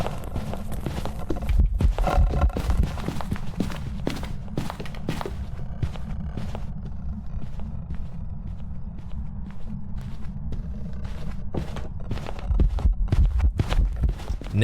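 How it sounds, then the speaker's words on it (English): Footsteps of a Myling ghost in Phasmophobia, a steady run of soft, heavy thuds repeating one after another at an even walking pace, with no talk. "Let me show you an example of what Myling sound like."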